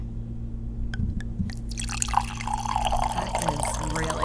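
Red wine is poured into a glass. A few drips come first, then a steady gurgling stream fills the glass, close and clear over a low background hum.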